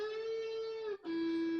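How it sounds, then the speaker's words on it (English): Electric guitar playing a full-tone string bend at the 12th fret of the G string, in a guitar solo: one sustained note that glides up and holds, is re-struck after a short gap, then rings out, with no voices. "we apply a full tone string bend on fret 12"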